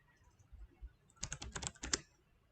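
Quick bursts of keystrokes on a computer keyboard, a close cluster of sharp clicks tapped in rapid rhythm after a quiet lead-in, with no speech.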